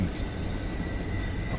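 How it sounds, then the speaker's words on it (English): Train wheels squeal steadily through a sharp curve in a train simulator video game, a sustained high-pitched metallic whine over a low rumbling roll, loud and continuous. "Just listen to those wheels squeak."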